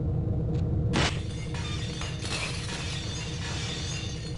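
Glass shatters in the Gunman Chronicles video game: a loud, bright burst of breaking glass about a second in, settling into a steady low rumble and mechanical hum with scattered clinks and debris.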